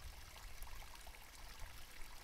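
Soft, steady water trickling close by in a calm ASMR setting, a continuous gentle flow with faint splashes and no voices.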